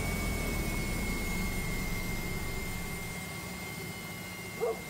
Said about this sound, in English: let's go ahead and shut down the engine here